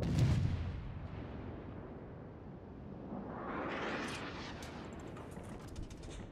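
Warship guns firing in a World of Warships naval battle, a heavy boom at the start followed by a long rolling rumble and rising whoosh of shells in flight, with no talk.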